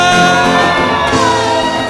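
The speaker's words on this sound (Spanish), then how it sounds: "Un grito de júbilo en esta mañana" A church congregation at a Sunday service shouts and whoops for joy, a loud continuous crowd roar layered over music.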